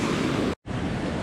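Ocean surf rolling in at Newport Beach during surf fishing, a steady, dense roar of breaking waves and wash, close and loud, with a brief dropout midway.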